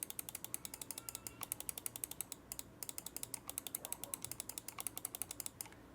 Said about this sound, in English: Let me give you guys a quick sound test on the clicks. Mouse 1 and 2.